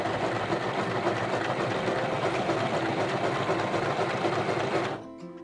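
A Telebrands mini sewing machine runs a straight stitch in a loud, rapid and even mechanical whir close by, then stops abruptly just before the end, leaving a faint hum.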